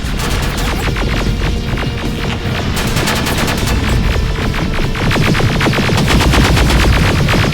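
Terminator Resistance combat: dense, loud, continuous machine-gun bursts, rapid rhythmic volleys layered over a throbbing hum with no pause throughout.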